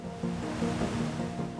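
Artificial waterfalls pour in a steady, dense rush of flowing water, a continuous wash of sound at moderate distance with no voices.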